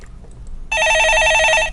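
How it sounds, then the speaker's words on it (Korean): A telephone bell breaks a quiet room, ringing loud and close in a fast, trilling electronic burst that starts abruptly and keeps going without pause. "예, 전화 받아보겠습니다"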